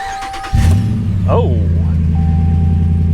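A used truck engine with no mufflers cranks and catches, then settles into a loud, deep, steady rumble close by, with a brief spoken exclamation.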